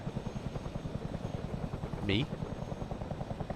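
Helicopter rotor in the ARMA 3 video game, a steady rhythmic thudding chop running throughout at moderate level, with a brief voice cutting in near the middle.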